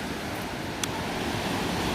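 Ocean waves break on a beach in a steady broadband wash of surf, a continuous rushing roar with slight swells, no voices.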